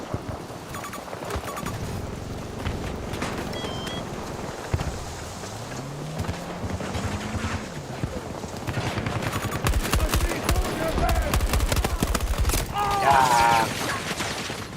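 Video game battle gunfire crackles almost nonstop, rapid machine-gun bursts and single shots layered with explosions and in-game radio chatter, dense and loud throughout with a denser barrage toward the end.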